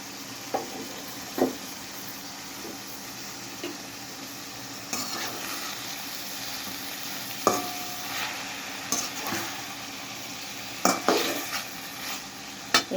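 Bitter gourd and dal are stirred while frying in a pan, with a soft continuous sizzle under repeated scraping strokes and sharp clinks of utensil on metal, coming in uneven bursts close up.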